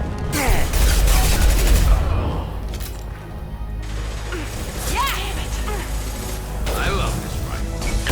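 Rifle fire from Mass Effect Legendary Edition, a sustained loud burst of close shots with metallic clatter, thinning to scattered shots and impacts as voices talk over the fighting.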